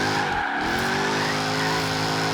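Jaguar F-Type Project 7 spinning out in Forza Horizon 3, a loud steady engine drone with tires skidding and squealing as the car loses grip, continuous and close throughout.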